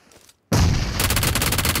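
Gunfire in a video game comes as a sudden loud burst after a brief silence, then a rapid, evenly spaced automatic volley that keeps firing to the end.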